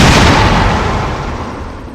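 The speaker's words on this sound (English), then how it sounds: "So I will equip the rocket launcher now." A rocket launcher fired at the Tyrant in Resident Evil Director's Cut, Jill's campaign, rings out as one loud, booming blast that decays slowly into a rumbling tail, with no talk over it.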